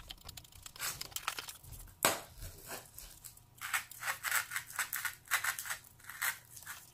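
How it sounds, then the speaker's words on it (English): Scissors cutting through paper covered in stickers for a gift box: repeated crisp snipping and crinkly tearing strokes in uneven bursts, close up, with a sharp snap near the start and no talking. "These stickers make it harder to cut."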